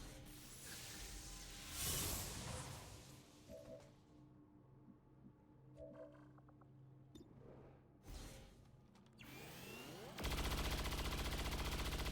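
Rapid gunfire rattles in XCOM Long War of the Chosen: loud bursts of quick shots and whooshes, followed near the end by a sustained, dense buzzing volley.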